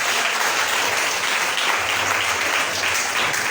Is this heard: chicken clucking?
no